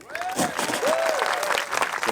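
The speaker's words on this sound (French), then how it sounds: "un tonnerre d'applaudissements" An audience at the Aurillac street festival bursts into sustained clapping mixed with crowd noise, while a high, wavering whistle-like voice rises above it.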